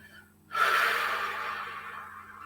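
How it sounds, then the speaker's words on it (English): A single long, soft exhale of breath follows a quiet intake, steady and close, tapering gradually, during a calming meditation with faint low harp tones underneath. "take a breath in through your nose and then breathe out slowly through your mouth"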